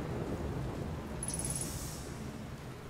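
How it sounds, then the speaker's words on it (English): Thunderstorm in Outer Wilds, a steady wash of rain and low rumbling thunder, with a brief high electronic chirping tone partway through. "I'm worried about getting struck by lightning here."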